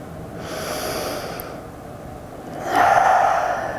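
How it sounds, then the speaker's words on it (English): A deep breath drawn in during a self-love yoga session: a soft, airy inhale swells near the end of a quiet stretch, close and gentle, with no talking. "Take in one more breath."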